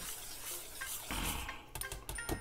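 Spoon stirring corn pudding batter of eggs, evaporated milk and sugar in a bowl, with close scraping and soft wet swishing that grows louder and clinks against the sides.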